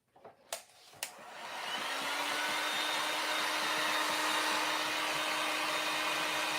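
A couple of sharp clicks and knocks, then a hair dryer switches on and runs with a steady, loud whooshing hum while drying candy cane decorations.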